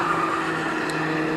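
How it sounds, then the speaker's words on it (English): A showroom stock race car spins around on a dirt runoff during a 1980 national championship race, with a steady loud engine drone and tire skid noise throughout, no talk. "Back was car number 4, spinning around there on the dirt."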